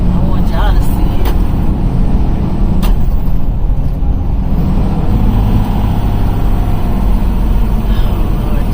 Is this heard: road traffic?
yes